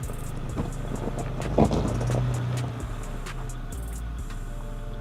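A Mitsubishi Pajero Sport SUV drives across a test course, its engine a steady low drone with a brief louder surge midway, then settling back to a constant hum as the run ends, with no voices.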